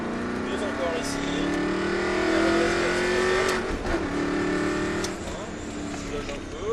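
Car pulling out of a bend during a driving lesson, the engine note rising and swelling as it accelerates, with an instructor talking over it throughout.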